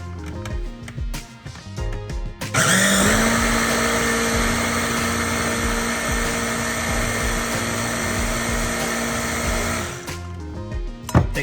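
A kitchen machine shreds cooked eggs for breakfast burritos with a loud, steady whirring motor hum that starts abruptly, runs for several seconds and cuts off, with clatter and handling before and after.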